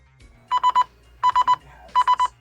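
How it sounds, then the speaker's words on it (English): A phone summoned by the find-phone function of a GT06 single-touch smartwatch, sounding three bursts of three quick, loud beeps in an even rhythm, close up with nothing else heard. "Phone wakes and makes a tone."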